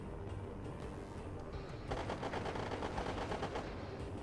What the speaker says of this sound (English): Now we're going to use our machine guns.